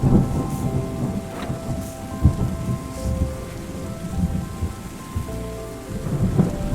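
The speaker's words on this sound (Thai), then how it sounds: "อ่าได้ฝนนะ" Steady rain pours with low rolling thunder rumbling in the weather of the video game Terra Nil, a dense continuous hiss with several deep thunder swells, no voices over it.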